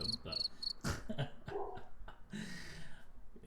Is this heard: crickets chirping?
yes